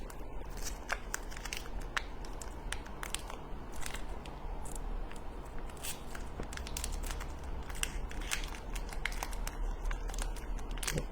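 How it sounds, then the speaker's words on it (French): Plastic wrapper of a chocolate bar package crinkling and tearing open, a steady run of crisp crackles and rustles close by with no talking. "J'ouvre le produit."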